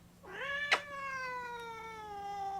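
An angry cat named Sylvester lets out a single long, drawn-out meow that rises and holds before fading, close and clear, with a brief bump partway through and no talking.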